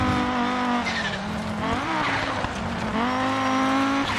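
Rally car racing through a Finnish stage in a video game, its engine holding a loud, steady drone that rises and dips with gear changes, tires squealing and skidding as the car slides through corners.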